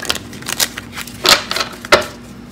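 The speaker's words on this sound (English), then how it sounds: "They're saying shuffle one more time with the left." Tarot deck being shuffled by hand, a run of soft papery riffles and slaps with two sharper bursts of cards, close and alone against faint background hum.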